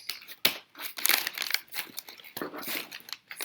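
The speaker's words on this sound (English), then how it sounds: "you do the honors of opening your gift, Saiasmi" Raspberry Pi 4 box gift package being unwrapped, steady close crinkling and rustling of wrapping with short tearing bursts.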